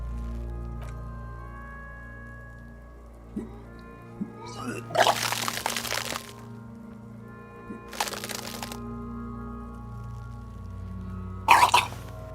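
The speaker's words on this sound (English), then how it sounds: "Your body curls and pushes it out, burst by burst, until a pool of vomit lies under your feet" Retching and vomiting in the video game Disco Elysium: three loud broadband bursts in a row, each a wet heave, over a low steady hum of background music.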